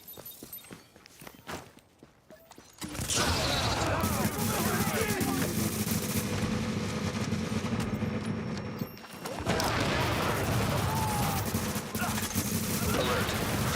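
Gunfire from the video game The Division, sustained rapid automatic shooting and combat noise erupting loudly after a few quiet footsteps, continuing densely with a short lull midway, with speech at points.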